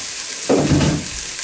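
Parasol mushrooms crisping in butter in a pan, giving a brief burst of frying sizzle that swells for about half a second, then fades back into a steady background hiss.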